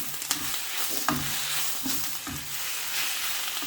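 Pak choy stir-frying in a hot pan for a prawn and vegetable stir fry, with a continuous loud sizzle broken by several scraping stirs and tosses, close and without talk.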